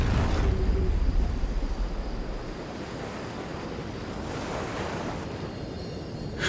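Surf rolls steadily onto a seashore with broad, continuous wash, loudest at the start and then settling into an even roar, with some wind buffeting the microphone and no voices.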